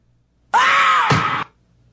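A recorded scream from a singer rings out alone, one loud sustained raspy shriek lasting about a second that breaks into a rougher, lower tail before cutting off abruptly.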